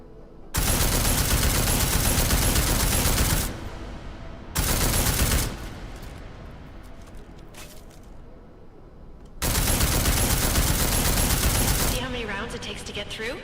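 Video game gunfire in Deus Ex: Mankind Divided aimed at an armored target: long, loud, dense bursts of automatic fire, separated by short gaps where echoes and debris trail off.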